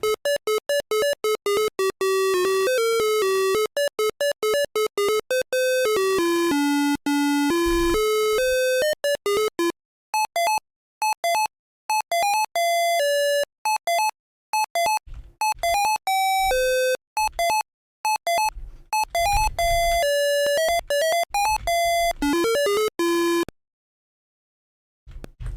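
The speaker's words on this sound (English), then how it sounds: "Put a gem in the jukebox and pick out an appropriately sleazy song for this dump of a bar." A sleazy tune plays on a jukebox in a dumpy video game bar, a chiptune-like string of bright synthetic beeping notes in fast runs with short gaps, loud and alone, stopping abruptly near the end.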